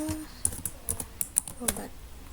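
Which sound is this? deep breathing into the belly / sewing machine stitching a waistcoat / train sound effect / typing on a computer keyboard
typing on a computer keyboard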